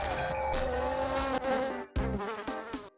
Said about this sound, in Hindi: एक मक्खी। अच्छा स्नैक है।